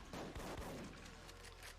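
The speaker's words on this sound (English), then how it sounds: "here I'm gonna actually use machine gun" Machine gun fire in the video game Duke Nukem: Manhattan Project, a quiet burst of rapid shots that thins into a low lingering rumble.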